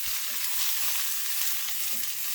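Vegetables and okra sweating in a hot pan for a Jamaican pumpkin steamed fish, giving a steady, close, even sizzle with faint stirring and no voices.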